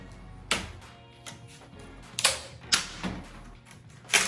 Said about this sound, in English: we're going to use a utility knife and snippers to cut those off